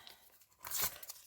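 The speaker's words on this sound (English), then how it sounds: "I think I'll just tear this like that" Coffee-dyed paper is torn by hand in one quick, close rip that builds and fades over about half a second, quiet and alone.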